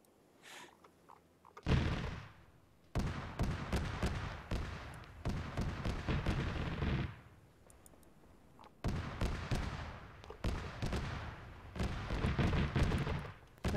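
Gunfire in the military video game ARMA 3, with sustained automatic bursts and rapid shots in several long volleys separated by brief quieter gaps, loud and dense with no talking.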